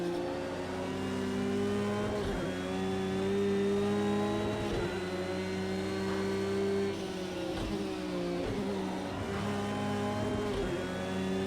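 A Porsche 911 GT3 R racing at Brands Hatch in Project Cars 2 roars steadily at high revs, with several sharp gear-shift dips and re-climbs, loud and continuous with no talk.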